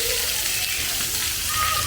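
Water jets spray continuously in a zoo splash play area built around a tree and a bridge, a steady loud hissing gush that holds evenly throughout with no break.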